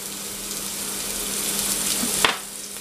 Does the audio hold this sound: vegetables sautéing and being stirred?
yes